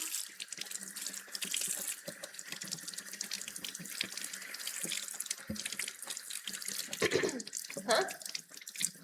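Kitchen tap water running into a sink while food is washed by hand, a continuous splashing stream with drips and handling noises, light speech faintly present.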